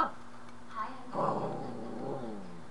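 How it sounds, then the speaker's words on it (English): Dog readying to bark, letting out low growls and whiny whimpering sounds across a couple of seconds, fairly close and faint, with no words spoken. "It's this dog getting ready to bark, and I'm trying to keep him from barking."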